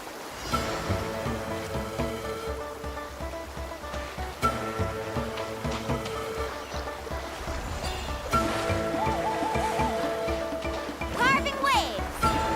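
Waves and rushing water surge continuously as a character swims through a fast current in Genshin Impact, layered under a loud musical score with bright melodic flourishes and a few sharp accents.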